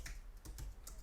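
Keystrokes on a computer keyboard while filling in an online form, a few quick clicks in a short close-up burst with no voices.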